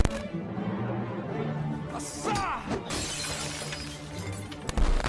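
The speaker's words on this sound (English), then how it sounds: "spin kicks the bottle, smashing it against a painting leaning against the wall" A wine bottle shatters against a painting leaning on a wall after a spin kick, a loud burst of breaking glass followed by scattered tinkling shards amid background scene noise and a voice.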